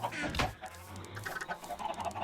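Chickens in a Minecraft chicken farm cluck in short repeated bursts, a sharp squawk near the start followed by quieter clucks, fairly close with no talk.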